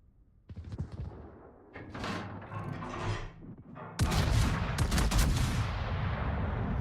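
Naval gunfire in the World of Warships video game: scattered heavy booms and thuds at first, then a dense, continuous barrage of overlapping salvos that stays loud to the end.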